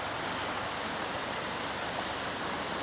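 A river flowing beside an eroded bank at Camp Postcard in February, a dense, continuous broadband rush of water, steady and fairly close.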